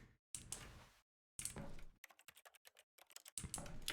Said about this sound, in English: Press U on your keyboard.